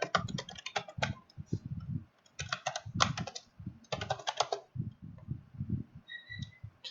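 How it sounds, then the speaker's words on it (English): An administrator password is typed on a computer keyboard in quick bursts of clicky keystrokes separated by short pauses, close-miked, with a low thumping underneath each burst and no speech. "I'll type in administrator and its password"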